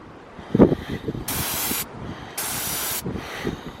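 Aerosol spray paint hissing onto a buried car at Cadillac Ranch on Route 66, two sustained bursts of about half a second each, close and loud, with faint talk and handling noises around them.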